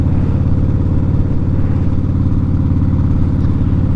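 A chopper motorcycle cruises along a 25 mph road in spring, its engine a steady, loud, continuous low rumble that holds even throughout.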